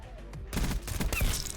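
Burst fire from a Stryder .22 pistol in Black Ops 6, a dense rapid cluster of close, loud gunshot cracks following a quieter opening.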